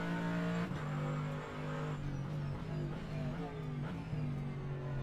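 GT3 race cars, including a Ferrari and a BMW, in a sim racing series race at Zandvoort: steady droning engine notes that shift pitch with gear changes and throttle, continuous throughout.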